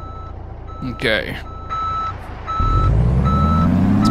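A massive American truck in Euro Truck Simulator 2 backs into a parking spot beside European trucks, its reversing alarm beeping at a steady rhythm while the engine rumbles up louder and a voice speaks briefly.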